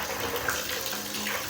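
Bathroom shower head running water, a steady broadband hiss and spray at close range with no break.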